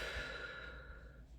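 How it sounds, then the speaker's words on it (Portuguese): A slow, deep breath during a guided relaxation with eyes closed, a soft close sigh-like exhale over a low background hum, no talking. "respirando fundo"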